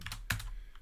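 Several quick clicks of keys on a computer keyboard as a command is typed, with one sharper keystroke standing out midway, close and fairly quiet in a quiet room.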